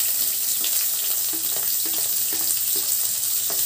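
Onion and green chillies frying in hot oil with a tempering of urad dal and mustard seeds, a constant loud sizzle with faint stirring taps throughout.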